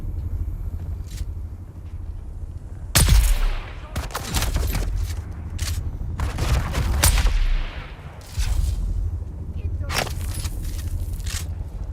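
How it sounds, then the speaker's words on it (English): Gunfire in the video game Dune Awakening, several sharp shots cracking out at irregular intervals over a steady low background, with the loudest bursts near the start and middle. "Somebody shooting at me from behind?"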